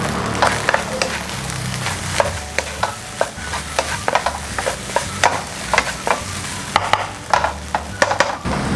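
Egg fried rice being stir-fried in a pan, with a steady sizzle under repeated scraping and clacking strokes of a spatula in an irregular rhythm, close and moderately loud, no talking.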